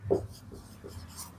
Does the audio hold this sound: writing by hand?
yes